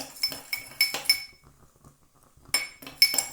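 A long spoon clinks and rattles against a glass as sugar is stirred for Rudesheimer Kaffee, giving bright metallic taps in quick clusters with a short quiet pause between them.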